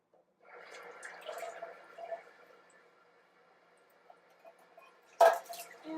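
Tomatoes rinsed under a running kitchen sink tap give a soft, close trickle of water with faint drips and squishy handling, then a short louder splash near the end.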